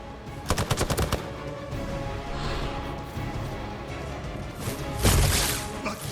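Gunfire in the Marvel's Midnight Suns video game: a rapid burst of about six loud shots, then a steady hum of game ambience and a second heavy blast near the end.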